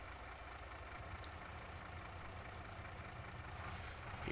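A tractor engine idles steadily in Farming Simulator 22, a low continuous rumble that holds even throughout and swells slightly louder near the end, with no talking.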